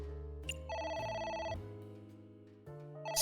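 Phone ringing in the game AI: The Somnium Files, an electronic melodic ring tone playing in stepped tonal phrases over a low musical background, fairly loud and without talk.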